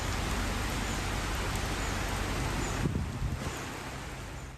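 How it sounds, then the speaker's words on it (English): A severe cyclone makes landfall on coastal Bangladesh and India, with heavy rain and strong winds producing a steady, loud roaring hiss of downpour and gusts that eases slightly near the end. "Strong winds and heavy rain pounded the coastal regions of Bangladesh and India"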